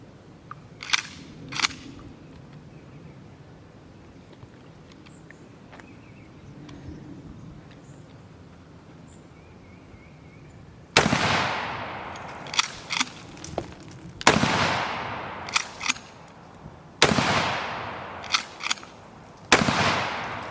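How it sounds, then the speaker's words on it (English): A shotgun fires buckshot outdoors in a series of loud sharp blasts. Smaller cracks come first, then four heavy booms spaced a few seconds apart, each ringing out as it decays. "But this a buckshot gun, like just, I am in the area, let them pellets spread."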